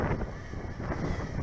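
Steady wind rushing across the microphone while a KingKong 110GT 117mm mini FPV racing drone flies outdoors, a continuous broadband roar with a low rumble and no voices.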